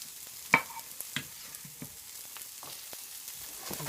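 Red pepper for New Orleans pasta cooks in a pan, a low, quiet sizzle broken by a sharp clatter and several lighter knocks of a spoon or spatula against the pan.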